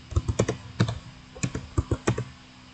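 Computer keyboard typing while entering network configuration commands, a quick burst of irregular clicking keystrokes in small clusters, close and fairly crisp with no talk.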